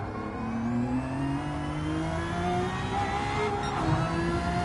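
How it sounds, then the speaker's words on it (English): A GR1 race car engine in Gran Turismo 7 at Daytona, screaming at high, steady revs against the rev limiter, loud and continuous with a slight rising whine and no talk. "And hit the rev limiter, definitely."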